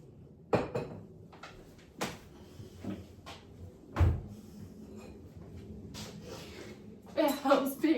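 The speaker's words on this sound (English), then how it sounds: "It helps being agile trying to get the bowl out of the top of the cupboard" Cupboard doors in a home kitchen knock and bump open several times as a bowl is pulled from the top shelf, with sharp clacks spread across the moment and a clink of crockery at the end, mixed with a person talking.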